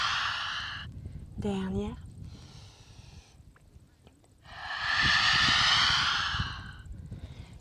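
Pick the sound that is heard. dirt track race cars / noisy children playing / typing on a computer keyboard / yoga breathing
yoga breathing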